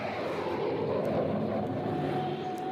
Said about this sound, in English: Then the jet bursts into life. It rockets down the runway, thrusts itself into the sky.